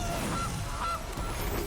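A cartoonish goose honk from the Gilded Goose card in the Magic Arena video game, two short honks about half a second apart over a steady bed of game music, with no talking.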